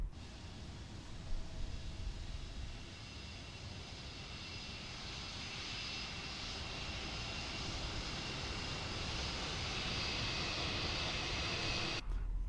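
Steady, continuous aircraft engine drone in Microsoft Flight Simulator 2024, a broad airplane roar holding at an even, fairly loud level throughout with no talking, ending in a brief cutoff.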